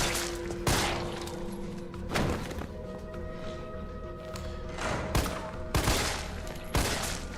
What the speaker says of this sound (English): The burst on the pistols actually it's really inaccurate.